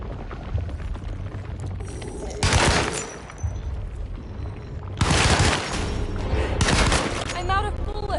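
Video game gunfire comes in several loud, close bursts separated by quieter gaps, ending as the weapon runs out of ammunition.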